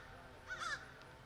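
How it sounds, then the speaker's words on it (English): A crow caws a couple of times in quick succession outdoors on a fine day, fairly faint and brief against a steady background hiss. "The crows are yapping today."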